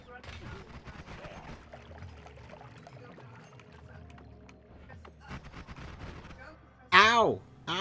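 Bursts of gunfire aimed at the player in the video game Noita, a run of rapid crackling shots under game sounds, then a loud sharp blast near the end.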